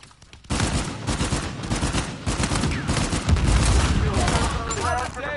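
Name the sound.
gunfire from the video game Uncharted 4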